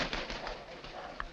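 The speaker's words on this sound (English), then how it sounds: "Hello, a tame raven." A tame raven gives brief, low, throaty calls over a muffled, hissy background in a 1943 film scene, faint and close with a slight rise near the end.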